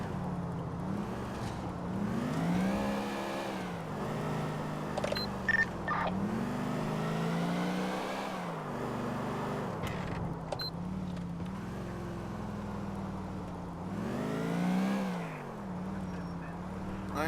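Car driving in GTA 4 off an exit ramp, a steady engine drone that rises and falls in pitch with gear changes and speed, running continuously with brief honk-like blips and no talk.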